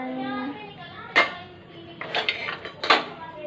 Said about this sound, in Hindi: ये देखें ये सारे बर्तन लगा रही हूँ